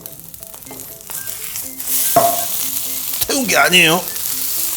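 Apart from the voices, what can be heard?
kkakdugi fried rice sizzling on a griddle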